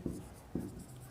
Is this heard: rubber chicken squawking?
no